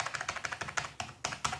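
A mechanical computer keyboard clatters under quick, even typing, a close run of crisp clicky keystrokes at a steady rhythm.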